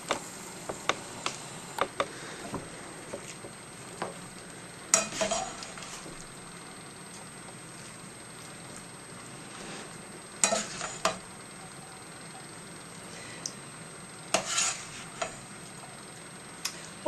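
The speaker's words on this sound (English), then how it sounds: "We're going to mix the greens with the other onions, celery, and stems" Greens, onions, celery and stems tossed together on a plate, with soft clicks, scrapes and occasional louder clatters of utensils against the dish, close and fairly quiet with no talk.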